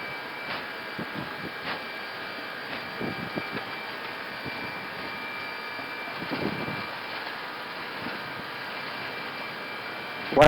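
Airbus jet engines spooled up to takeoff thrust on the runway, heard from inside the cockpit as a steady, even roar with a faint whine and some clicks and bumps, no talk.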